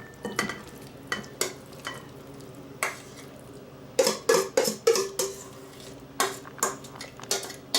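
A spoon scrapes and clinks against a bowl while dairy-free curry chicken salad is scooped out, giving a series of short, sharp scrapes that cluster into a quick burst midway, with no talking.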